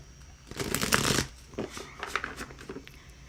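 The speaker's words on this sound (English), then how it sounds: "I'm going to pull a card for you right now" A deck of tarot cards is shuffled and handled up close, with a burst of riffling followed by quieter flicks and taps as a card is pulled.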